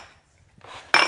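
A serving spoon scrapes and scoops rustic cobbler out of a baking dish, a soft shuffling scrape building to one loud, close clatter of spoon against dish at the end.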